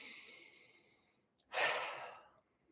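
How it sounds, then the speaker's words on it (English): A slow, deep breath taken while sitting in meditation: a soft airy exhale first, then after a brief pause a stronger, rushing inhale that swells and fades, close and quiet with no talking. "I just want you to slowly breathe."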